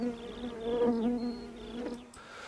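Apis honeybees buzz steadily near a saucer of food set 500 metres from their hive, a close, continuous drone that holds level throughout with no voices.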